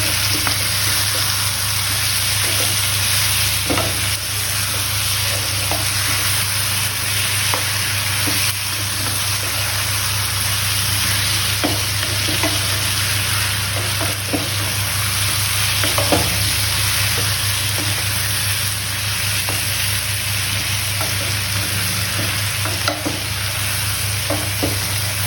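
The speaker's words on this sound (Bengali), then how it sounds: "মিক্স করে নেব" Ingredients for a jackfruit curry sizzle steadily in a hot pan while a spatula stirs and scrapes in loose, repeated strokes, loud and close throughout with no talking.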